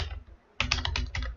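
Quick typing on a computer keyboard while code is entered in VS Code, a short close burst of clicking keystrokes after a brief pause.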